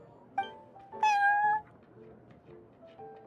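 Prince, the cat at the Cat's Tail in the game Genshin Impact, gives a short chirp and then a longer, clear meow, close and alone over soft background.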